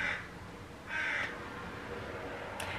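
A crow caws twice, each call a loud, harsh single caw about a second apart, followed by a fainter clipped sound near the end, over a quiet background.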